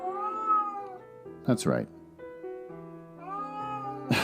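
Cats meowing indoors, drawn-out tonal mews rising and falling close by, broken by a short burst of a man's speech in the middle.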